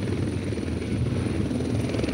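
A helicopter's engine and rotor drone steadily at close range with a dense low rumble and a high turbine whine, holding even throughout as it readies for takeoff during an introductory flying lesson.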